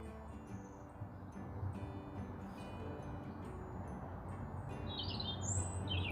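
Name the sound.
bird singing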